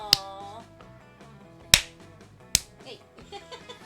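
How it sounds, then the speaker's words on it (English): Punches land on a goblin in the video game Prom with Monsters, three sharp smacking hits spaced apart over a bed of game music and sound effects. "Damon continues to beat the piss out of the goblin, but clearly his heart isn't in it"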